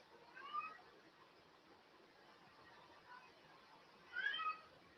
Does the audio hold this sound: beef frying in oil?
no